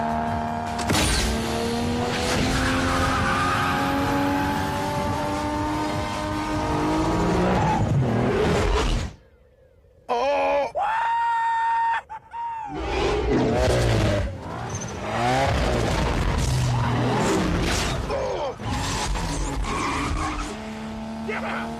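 Street racing cars from 2 Fast 2 Furious in Miami, with loud tire squeals, skids and revving engines over dramatic movie score and talk, cut by a brief silent gap before the screeching returns.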